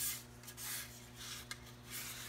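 Hand sanding a wood sealer coat on a half hull boat model, soft repeated rubbing strokes rising and falling in quiet bursts, close by with a faint steady hum underneath.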